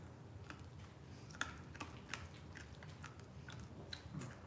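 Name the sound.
crunching while eating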